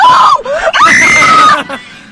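Loud, high-pitched screaming from a played video clip, sustained for about two seconds with rising and falling pitch before cutting off, alone without other talk.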